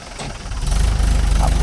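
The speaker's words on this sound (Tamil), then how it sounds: "வண்டி ரிவர்ஸ் வருது" A vehicle engine runs while reversing near a JCB 3DX backhoe and a Mahindra 415 DI tractor loading soil. The low, rumbling drone grows louder and heavier as it comes close.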